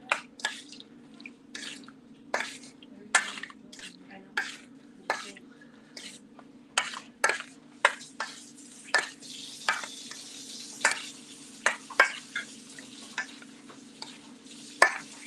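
Hawaiian food being folded and stirred in a pan, with repeated scraping strokes at an irregular steady rhythm, close by and moderately loud, over a constant low hum and faint sizzle.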